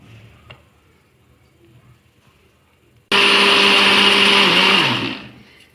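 An electric mixer whirs loudly for about two seconds, beating eggs, sugar, oil and flour into cake batter for a roll cake, starting abruptly after quiet and winding down at the end.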